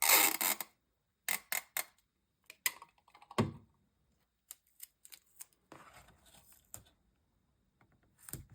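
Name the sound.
adhesive tape being pulled and applied to a paper folio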